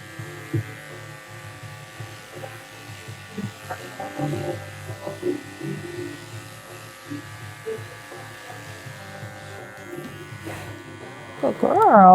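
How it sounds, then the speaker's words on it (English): Electric clippers fitted with a 40 blade buzz steadily while shaving the paw pads of a miniature poodle in a grooming salon, a constant close hum with small bumps as the blade moves, and brief voice sounds near the end. "now I'm gonna go in and shave out her pads with a 40"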